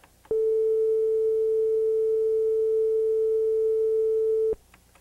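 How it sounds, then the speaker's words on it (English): A warmer flute sounds the same note a touch sharp, giving a pure, steady, synthetic-sounding tone held for about four seconds before stopping abruptly. "When the flute at the higher temperature tries to sound the same note, it sounds like this."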